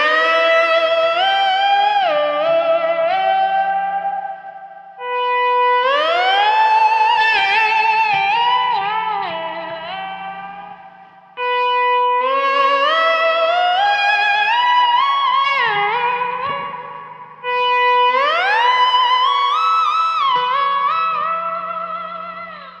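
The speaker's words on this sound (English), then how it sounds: "I'm hitting the 12th fret harmonic, and if you know me already, you know that I'm using a volume pedal" Slide guitar chiming a 12th fret harmonic on the B string, each note swelling in gently through a volume pedal with echo trailing behind; four separate phrases, each one rising from silence and fading away, with no voice.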